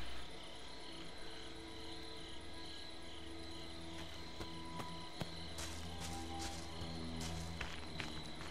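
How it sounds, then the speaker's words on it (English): Night crickets chirp steadily through a quiet horror game setting in Friday the 13th: The Game, a dense, even insect drone with faint scattered clicks and footstep-like taps on top. "These crickets are way too peaceful."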